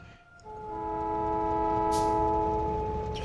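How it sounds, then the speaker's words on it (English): A Factorio train rolls along in-game, a steady rumble with sustained horn-like tonal lines, starting loud and holding close for several seconds. "rather than drive down there, I kind of just want to take the train."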